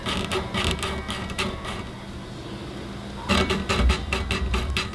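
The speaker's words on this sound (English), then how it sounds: "Just listen to the noise when you're bending at the 12th fret." Gritty scraping bursts come from strings being bent on rough stainless steel frets of a Harley Benton Fusion EMG HT roasted guitar, heard as repeated short rasping strokes, a quieter stretch, then a louder cluster of scrapes close up.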